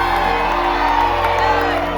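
A large concert crowd cheers and whoops in a dense, sustained roar, loud and continuous with shouts rising out of the mass of voices.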